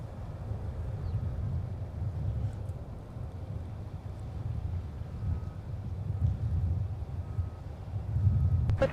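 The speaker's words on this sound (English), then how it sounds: "KLM 250 blasting off majestically for AMS." A KLM heavy jet airliner, flight 250, takes off from Minneapolis–St. Paul airport bound for Amsterdam. It makes a steady, deep rumbling roar mixed with wind buffeting, and the sound swells slightly toward the end.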